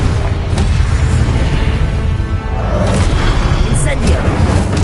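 Confringo spell blast in a Harry Potter game on PS5, loud booming bursts over a dense rumbling mix of game effects and music, with a voice shouting the spell.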